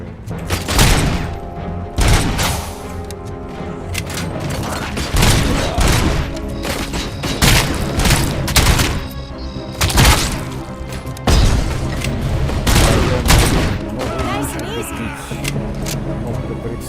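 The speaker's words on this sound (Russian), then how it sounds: "Пока что пистолетом нравится больше стрелять вот этим вот" Sharp, loud gunshots in RoboCop: Rogue City, RoboCop firing his sidearm in irregular single and clustered bursts with booming impacts, over continuous game background sound.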